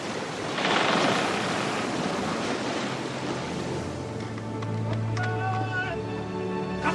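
Surf from a vast open sea rolls in a steady wash, with a swell of waves near the start and wind over the water, while voices speak over it.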